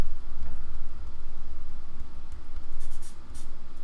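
Soft pastel pushed and blended into paper with a fingertip, a continuous quiet dry rubbing and scuffing that swells and eases in short strokes, close and alone.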